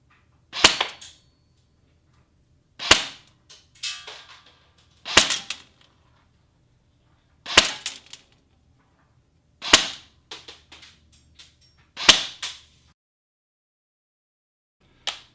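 A ZShot M4e airsoft AEG fires shots through a chronograph, each a sharp, loud snap followed by a brief rattle, spaced roughly two to three seconds apart in a quiet room.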